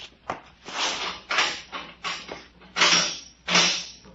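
A key works the lock of a door that then creaks open in a radio drama effect, a run of loud, close, drawn-out mechanical creaks in about six separate bursts, with no voices.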